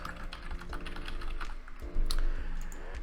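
Keys clatter steadily as a funnel name is typed on a computer keyboard, a rapid run of close, crisp clicks with a slightly louder burst near the end, no voices present.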